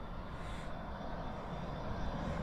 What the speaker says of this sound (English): And there's the landing gear getting retracted and nose up.